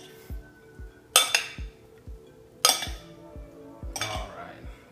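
Shrimp ceviche with celery being stirred in a bowl, giving a steady series of soft low taps with three bright clinking scrapes of a utensil against the dish, close and alone with no talk.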